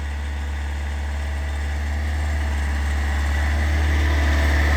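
The engine of a tracked off-road vehicle runs loud and steady as the machine spins in a circle, a dense low drone that swells slightly toward the end, with no voices.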